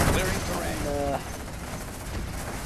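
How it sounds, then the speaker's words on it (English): Rapid gunfire strikes on tanks in the strategy game C&C Generals, a dense crackling fusillade under game sound effects and a brief tonal alert, fairly loud and continuous. "tanks just sitting around, getting shot at"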